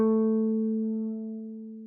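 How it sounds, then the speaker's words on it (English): A single guitar note, A, fretted with the third finger at the 7th fret of the 4th string, rings clear and steady for about two seconds and fades slowly, with no voices. "A, 3rd finger, 7th fret, 4th string"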